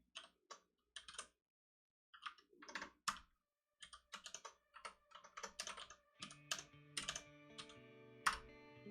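Keys clatter on a computer keyboard as Haskell code is typed, coming in uneven bursts of close, crisp clicks with short pauses, then a low steady hum joins near the end.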